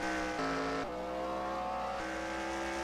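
Race cars run on the Lime Rock circuit in a stock-car racing video game, one engine droning steadily close by and stepping up in pitch through gear shifts, with no talk over it.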